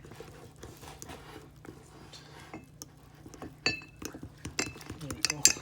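A spoon clinks and taps against a glass mixing glass while sauce for General chicken is stirred, with irregular bright clinks picking up toward the end under faint talk.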